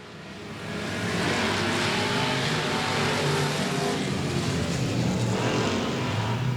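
Race cars at Golden Triangle Raceway Park, a loud, continuous engine roar that builds over the first second as the pack approaches and holds steady, with no speech over it.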